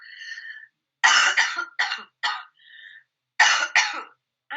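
A person coughing several times in short bursts, close and fairly loud, with pauses between and a faint tonal sound in the gaps.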